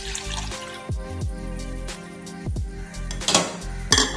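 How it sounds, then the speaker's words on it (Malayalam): Milk is poured into a saucepan for custard pudding, a close liquid trickle mixed with the light clinks and knocks of metal cookware in the kitchen, with no voices. "അടുത്തതായിട്ട് ഒരു സോസ് പാനിലേക്ക് ഈ പാലൊന്ന് ഒഴിച്ചു കൊടുക്കണം."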